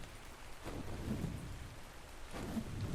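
A lightning storm in the video game ARK rumbles on with steady thunder and rain noise, with two louder rolling swells about a second apart and no voices.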